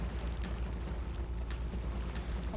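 A large in-game explosion as the battleship USS Arizona's magazine blows up in the Pearl Harbor attack in Battlestations Midway, a continuous loud, dense roaring rumble with heavy low-end boom sustained throughout without talk.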